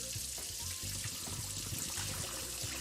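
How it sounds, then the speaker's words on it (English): Tap water runs continuously into a bowl of rice for rinsing, a steady close splashing and trickling rush with small gurgles throughout. "that's the entire reason behind rinsing our rice, any kind of rice"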